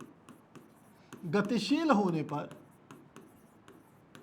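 A teacher writes on a board during a Class 12 physics lesson on electric charge. Short, scratchy strokes tick along steadily, with the teacher speaking partway through.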